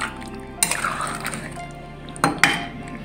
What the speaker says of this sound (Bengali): দেখো মাংস কষছি